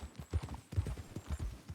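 Horse hooves clip-clop at a steady trot in Red Dead Redemption II, an uncle's horse ridden at moderate pace; the rhythmic thuds are close and fairly clear, with no talk over them.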